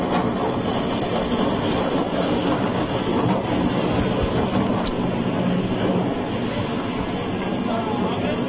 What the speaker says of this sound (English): that is the chopper that has just taken off